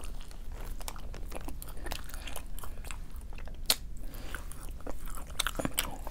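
Chewing and biting through chicken and shrimp bowtie alfredo at a mukbang meal, wet close-up mouth sounds with soft crunches repeating steadily, no talking.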